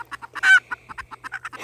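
Bantam chickens moved in with a flock of seven others cluck in quick, evenly spaced bursts, with one louder drawn-out squawk in the middle, close and clear.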